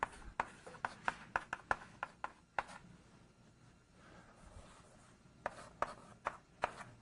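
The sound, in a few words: lecturer writing out an equation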